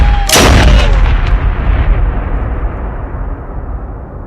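A single loud gunshot from a 1998 film cracks out sharply near the start, then rolls into a long, booming echo that slowly fades, with no voices.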